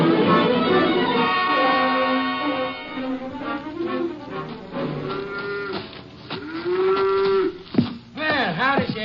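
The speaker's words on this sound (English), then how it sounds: "Let go of that cow for a minute, Luther." A farm cow being hand-milked moos repeatedly, long, loud bellowing lows rising and falling in pitch, close and dominant throughout, with sharper calls near the end.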